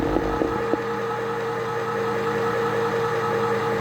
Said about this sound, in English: the motor picks up and the sound changes once the can has been cut open